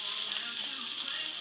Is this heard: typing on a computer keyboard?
no